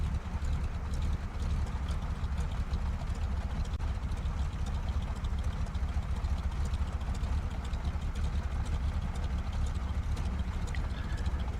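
A Monster NX Cub aircraft engine in Microsoft Flight Simulator hums at a steady low idle, a dense even drone with no change in pitch for the whole stretch and no voices.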